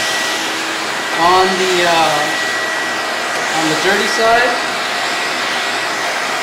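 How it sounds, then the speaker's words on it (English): A vacuum cleaner runs steadily while cleaning the cracks of a car's air filter, a loud continuous whooshing drone close by, with someone talking briefly over it. "So just vacuum the cracks"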